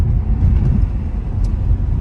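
Low steady engine rumble from a Dacia Duster II Prestige ECO-G 1.0 TCe 12V 100 hp running on LPG, heard from inside the cabin as it accelerates in second gear, loud and even with no clear shift or talking.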